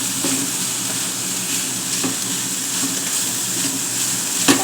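Shredded cabbage for spring rolls fries in a hot pan with a steady, close sizzle, broken by a few scraping stirs of the utensil and a sharper clank near the end.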